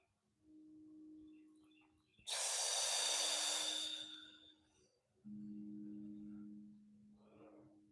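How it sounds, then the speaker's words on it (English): Slow, deep breaths during a relaxed yoga stretch: a soft hummed inhale, a loud airy rushing exhale, then another toned breath, close and alone in a quiet room. "Just rest and breathe here"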